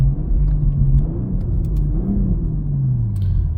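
A 2023 BMW M340i at part throttle through a turn, its engine giving a steady low rumble that rises slightly in pitch, heard from inside the car with no talk.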